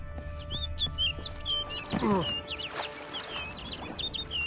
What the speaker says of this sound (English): Looks like the bird's leading me somewhere.